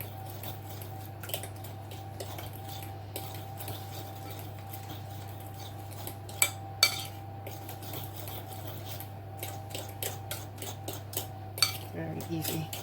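Cake batter with milk is stirred in a bowl, with a soft continuous scraping and patter and occasional sharper clinks of a utensil against the bowl, set over a steady low hum.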